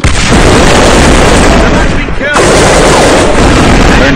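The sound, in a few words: grenade explosion and gunfire in the video game A.V.A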